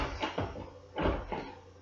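Small plastic door on a Playmobil toy TV cabinet being opened and handled, giving a few soft, close clicks and knocks in a short burst with no talking.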